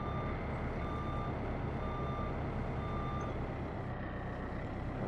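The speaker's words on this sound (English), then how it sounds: "I'm going to back the lorry up actually" Lorry reversing alarm in Farming Simulator beeping in a steady repeating pattern, each beep evenly spaced, over a constant low truck engine drone.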